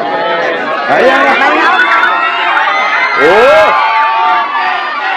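A large crowd shouts and cheers loudly at a political rally for Vice President Sara Duterte, with children's shrieks and babble mixed in and two louder swells of roaring voices.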